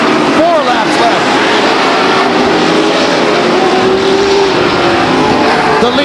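Stock cars race around the Stockton 99 Speedway oval, engines roaring and passing by with pitch sweeps over a steady crowd-and-track wash, while an announcer talks over the action.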